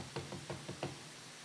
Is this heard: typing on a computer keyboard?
no